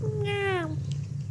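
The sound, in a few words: cat meowing in a watched video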